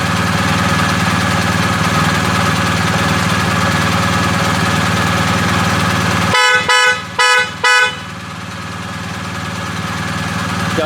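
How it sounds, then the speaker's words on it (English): A BMW motorcycle horn, wired through a Hexezcan controller, gives four short loud honks in quick succession over a steady idling engine hum, with the engine continuing alone afterward. "And then of course I'm going to show you the horn."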